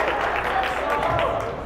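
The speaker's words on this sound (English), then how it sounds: "A couple of hand claps." Applause and scattered hand claps ring out from the crowd at a varsity boys basketball game between the Thermopolis Bobcats and Lyman Eagles, a steady wash of clapping under ongoing talk.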